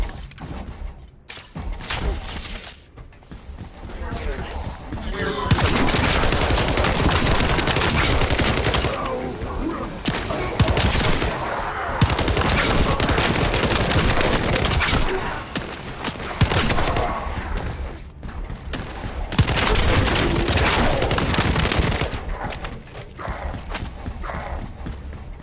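Gunfire from the shooter video game The First Descendant, dense bursts of shots layered with ability effects and loud continuous action, sustained for most of the stretch.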